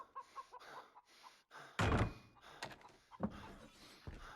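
A door in Far Cry 3 bangs open with one loud, sharp thud in the middle of quieter game sounds, followed by scattered smaller knocks and rustles.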